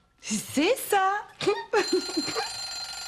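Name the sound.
alarm clock ringing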